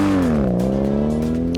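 A diecast Nissan Maxima Drift toy car speeds down a racing track, giving a loud, steady whirring roll with a slight dip in pitch midway, heard alone for a brief moment.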